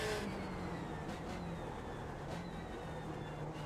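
A race car engine held at full throttle in the iRacing sim, a steady, droning high-revving whine that carries on unbroken at moderate volume.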